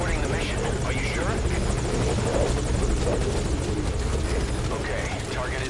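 A rotor helicopter in the video game Metal Gear Solid V: Ground Zeroes, droning loud and steady with a rapid blade chop, while game dialogue runs over it.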